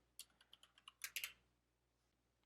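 Someone types a short command on a computer keyboard: a quick run of crisp keystrokes, a tighter cluster of clicks, then a pause before one final key press, close and quiet.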